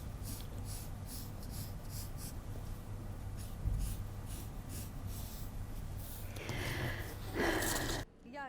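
Pencil or chalk scratches across a dress pattern on fabric while a line is drawn, faint scraping strokes near the microphone, with a short rustle near the end.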